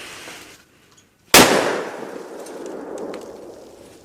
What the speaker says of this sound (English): I'm going to fire at a couple steel plates down range about 30 yards